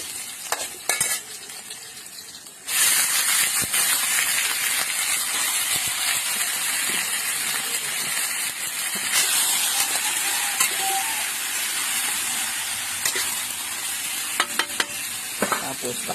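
Onions, garlic and ginger sautéing together in a hot pan over a strong flame for tinola, with a steady loud sizzle running throughout after a brief quieter start, stirring scrapes and clicks breaking through near the end.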